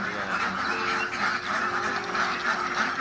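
A flock of farm ducks quacks steadily and noisily in a village duck pen beside a coal-mining area, the dense overlapping calls continuing without a break.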